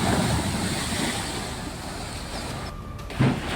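The flooded Sharda river rushes in a continuous broad roar of churning water, with a brief louder surge near the end.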